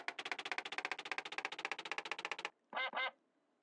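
A duck gives a rapid run of about twenty loud, nasal quacks in steady rhythm, then pauses before two final drawn-out honking quacks, close and clear with no talking.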